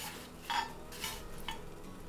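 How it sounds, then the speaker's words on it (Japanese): Fried food is mixed in a nanbanzuke marinade in a kitchen, with soft, wet stirring and a few light clinks of a utensil against a bowl over a low steady background. "全体に混ぜ合わせたら10分くらいつけておきます"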